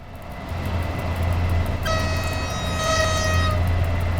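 Train passing in the railway simulator game SimRail, a steady low rumble with a horn-like tonal sound joining midway and holding to the end, fairly loud and continuous.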